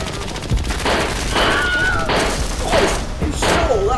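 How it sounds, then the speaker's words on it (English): Rapid bursts of gunfire blast close and loud in quick overlapping volleys, with crashing impacts and whistling, rising tones over a constant dense roar. "You sure that's a toy gun?"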